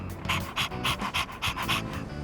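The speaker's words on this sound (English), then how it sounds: "Ah, walking the dog, huh? I didn't know you had one." A dog in Persona 3 Reload pants rapidly and close up, a rhythmic run of quick breaths of about four per second with no talk over it.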